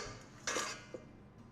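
New baking pans and their accessories are handled, a couple of light metallic clinks and clatters, close and brief against a quiet room.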